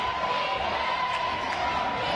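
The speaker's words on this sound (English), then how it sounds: "Now, crowd calling for defense." An arena crowd at a FIBA Women's EuroBasket 2019 qualifier between Great Britain and Israel chanting for defense, a dense, continuous roar of voices filling the hall at an even, loud level.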